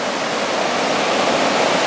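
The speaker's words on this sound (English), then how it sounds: "I got watching that rapids over there" River rapids near a swimming hole, a steady loud rushing roar of churning water with no break, close by and alone.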